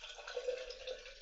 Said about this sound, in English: I pour some tea in here